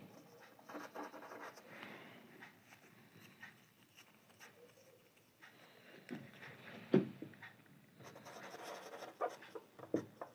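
Chalk or marker scratching out a definition on a board during a mathematical physics lecture, a steady run of faint, close scraping strokes with brief pauses and taps, heard alone without talk.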